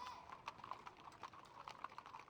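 A stallion, loosely tied outside in the video game Sorcery!, shifts nervously, with soft rhythmic hoof clops and light clicks at a steady, quiet level.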